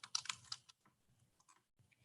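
Quick bursts of clicking keystrokes on a computer keyboard entering text into an Excel spreadsheet, a fast close cluster followed by a few sparser, fainter taps in a quiet room.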